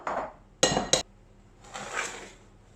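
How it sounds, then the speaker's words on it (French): A utensil scraping leftover béchamel sauce from a lasagne baking dish, soft scraping strokes with two sharp clinks of metal against the dish in between, close and clear. "Je vais racler mon plat aussi de béchamel"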